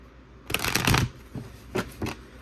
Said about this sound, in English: So let's draw another card and see what's going on.